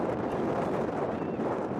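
Steady broadband wind rushing over an outdoor blitzball field, a continuous roar buffeting the microphone with no break, loud and close, with no voices or game sounds standing out.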